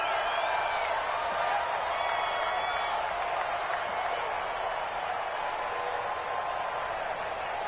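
A dense, steady wash of stadium crowd applause and cheering fills the whole stretch in a PS4 American football game, loud and continuous, with faint commentary voices beneath it.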